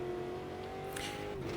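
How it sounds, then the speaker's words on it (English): A 450-horsepower rear-drive V8 touring car engine in the Automobilista 2 racing game, holding a steady loud drone at near-constant revs with a brief upward shift of pitch late on, heard alone without talk. "we've got a V8 450 brake horsepower engine feeding everything to the rear wheels"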